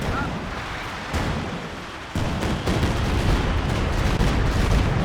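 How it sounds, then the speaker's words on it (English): Katyusha rocket barrage in the strategy game Company of Heroes 2, a dense, continuous rumble of rocket impacts and explosions that steps up in loudness partway through, with overlapping blasts. "that's going to be Katyusha barrage follow-up"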